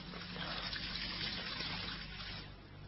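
Water pours steadily into a glass in an old-time radio drama, a continuous close gushing trickle that runs for a few seconds before tapering off, with no voices over it.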